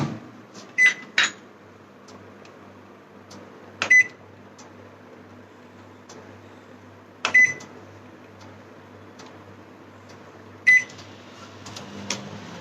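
An oven set to 180 degrees runs while bread crumbs bake, with a faint low hum broken by a few sharp beeps and clicks spaced several seconds apart.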